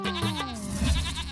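Goats bleat in a wavering, nasal cry as a herder leads his whole flock out for the first time, a close, sustained call over soft background sound.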